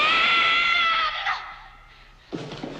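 A woman screams loudly in a scene from the film The Graduate, a sustained high shriek that fades out into near silence before a short burst of other noise.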